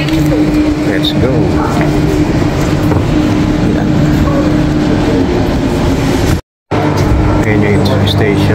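Train interior on the run from Perth city centre to Fremantle, Australia: steady loud rumble and rail noise throughout, with voices talking over it and a brief dropout near the end.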